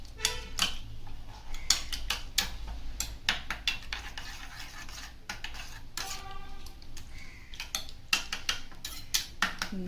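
Egg, salt, green chilli and coriander being mixed in a bowl for a bread omelette, a rapid clattering of utensil against bowl in quick irregular bursts, close and alone.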